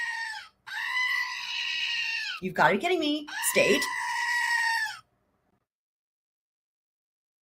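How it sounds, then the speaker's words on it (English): A goat bleat plays as a sound effect, two long wavering cries split by a short burst of speech, loud and close, ending in silence. "Prepare for the goat. Goat warning. Goat warning."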